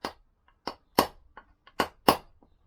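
Sharp metallic blows of a hammer striking the outer edge of a bearing being driven into place on a Lambretta, several irregularly spaced close knocks with a couple of fainter taps between, no talking.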